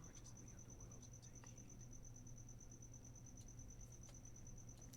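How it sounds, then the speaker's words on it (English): A cricket or cicada chirps steadily outdoors, a thin continuous high trill at moderate distance over faint background hum. "cricket or a cicada or something out there that'll probably be keeping us company for this whole video"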